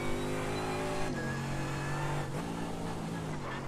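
A race car screams at full throttle on the Bathurst mountain circuit in iRacing, a loud, steady engine howl with a shifting pitch through gear changes, alone and close.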